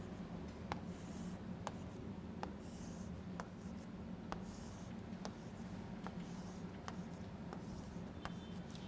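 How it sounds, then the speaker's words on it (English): Marker or pen strokes on a board while field lines between a positive and a negative charge are drawn, a steady run of short faint taps and scrapes spaced about a second apart over a low constant hum. "let me draw the field lines in between them"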